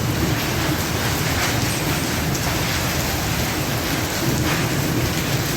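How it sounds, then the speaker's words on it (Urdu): Intense downpour with falling hail, a continuous loud wash of rain hammering nearby surfaces, with low thundery rumble underneath and scattered crisp hits throughout, and no one speaking. "یہ اتنی شدید بارش ہو رہی ہے، اولے بھی پڑ رہے ہیں"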